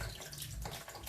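Tap water runs and splashes as tomatoes are rinsed one after another, a soft, close trickle with small irregular splashes and no talk.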